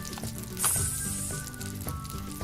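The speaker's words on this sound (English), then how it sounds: "Can you hear that sizzle?" A toy play kitchen's electronic sizzle effect, heard while Play-Doh food is cooked on a Just Like Home toy microwave oven set, gives a bright hissing burst. The burst fades into a soft steady fizz with light handling clatter, with no talking.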